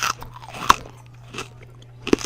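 Crunchy breakfast cereal bitten and chewed up close, with two sharp crunching bites standing out among softer chewing crackles, and no talking.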